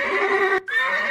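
A horse neighs in a single loud, close whinny with a bright, wavering pitch and a brief break near the middle before it resumes and trails off.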